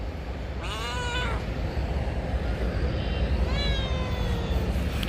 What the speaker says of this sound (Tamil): இந்த பூனையை என்னையை சுற்றி என்ன வேணும்?